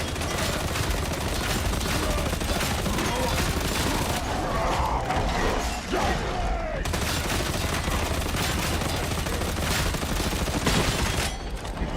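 Rapid, dense gunfire from veteran weapons in the video game Darktide rattles almost continuously against basic meat targets, with a brief lull midway before the shooting resumes, loud and unbroken.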